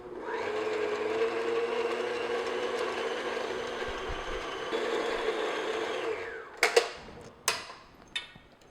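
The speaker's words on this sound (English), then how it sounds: "I'm just going to keep beating this till it smooths out a bit" Cream puff dough is beaten after egg is added, giving a steady whirring mixer drone that runs several seconds and then ends in a few clattering knocks.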